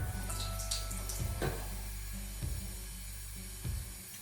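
Water runs from a tap into a container being filled for a facial steamer, a steady close rushing stream with a few brief knocks and splashes, no talking.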